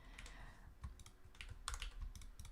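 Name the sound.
typing on a new computer keyboard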